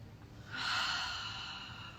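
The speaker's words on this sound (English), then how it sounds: "taking a nice deep breath with me" A single deep, slow breath drawn in quietly during a calm full moon healing meditation, soft and close, swelling then easing away over about a second and a half.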